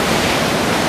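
Ocean waves on the beach at Anglet in early morning, heard as a steady, loud, broadband surf wash with no break or distinct individual wave.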